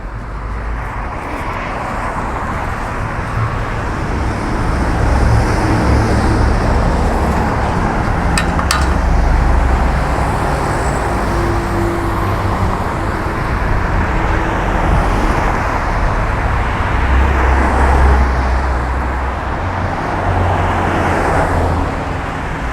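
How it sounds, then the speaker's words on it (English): Steady, loud traffic roar on a busy street in Coconut Grove, with cars and buses passing close by in continuous overlapping whooshes and engine rumble. "You can see how busy the street is."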